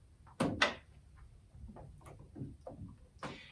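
Two lids on Cricut cutting machines are opened, producing a pair of sharp plastic clicks close together, then softer clacks and small mechanical ticks, with a faint closing snap near the end.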